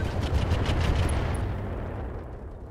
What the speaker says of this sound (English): We're going to fire the SRMs and the eye rockets.